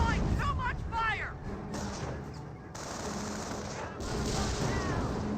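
Rapid bursts of gunfire in Company of Heroes, fired at a Panther tank in a battle against Panzer Elite, crackle steadily beneath game voices and other battle noise.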